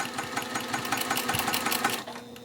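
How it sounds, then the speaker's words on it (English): A sewing machine stitches a quarter-inch quilt seam with a steady, close mechanical whirr and rapid needle chatter, then stops abruptly near the end. "now I'm going to sew this down again at a 1/4-inch seam allowance"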